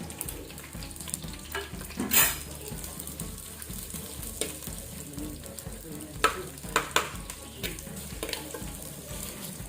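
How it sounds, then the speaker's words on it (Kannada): Onions frying in hot oil for a Kannada-style tempering, with steady sizzling and crackle throughout and a few louder stirring scrapes and spatters near the pan. "ಈಗ ಎಣ್ಣೆ ಬಿಸಿ ಆದ ನಂತರ ಇದಕ್ಕೆ ನಾವು ಆನಿಯನ್ ಹಾಕ್ಕೊಳ್ಳುವ. ಈರುಳ್ಳಿ ಇದು ಸ್ವಲ್ಪ ಲೈಟ್ ಕೆಂಪಾಗಿ ಫ್ರೈ ಆಗಬೇಕು."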